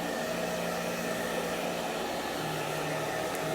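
A hair dryer blows steadily at close range over a Halloween chalkboard transfer, a continuous even whoosh with a constant motor hum that holds for the whole stretch with no pauses.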